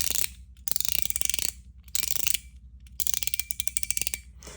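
A fidget toy from a travel collection clicks in close, crisp bursts of rapid ratcheting ticks, with short silent pauses between each run.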